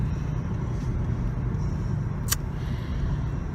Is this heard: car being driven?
yes